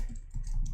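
Fingers type on a computer keyboard, producing a short, close burst of soft, rapid keystrokes over a muffled background.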